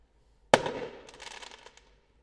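A single sharp firework bang cracks outdoors at moderate distance, followed by a trailing crackle and fizzle that fades over about a second and a half.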